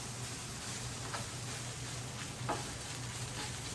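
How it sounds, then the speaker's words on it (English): An egg sizzles steadily in a pan on a home stove, with a couple of soft scrapes as a spatula flips it; the frying hiss stays even and close throughout. "I get my flipper. And I start flipping that baby"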